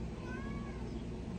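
A pet cat gives a faint, drawn-out meow, largely buried under steady loud broadband noise for its brief length.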